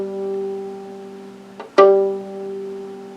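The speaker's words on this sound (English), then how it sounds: "So my G string, the lowest string, the thickest string sounds like this." A violin's G string, its lowest and thickest, sounds as a sustained low tone; midway, a brief scrape and a sharp pluck break in before the tone settles again, quiet and steady, with no voices.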